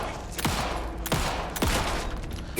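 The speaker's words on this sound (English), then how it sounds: "I'm just shooting all around his face." Three loud, evenly spaced gunshots ring out while a monster is being shot in the video game Alan Wake 2, each one a sharp crack followed by a short decaying tail.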